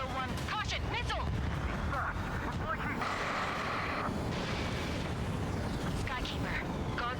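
A missile explodes in the jet combat game Ace Combat 7, a loud sustained roaring blast with rumbling debris and dense continuous noise filling the whole stretch, close and overwhelming.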